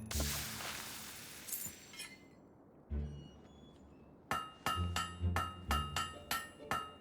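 Hammer blows ring out on a blade at an anvil in the Fable III video game: a burst of clangs, a pause, then a steady run of bright metallic strikes with ringing overtones, loud and close.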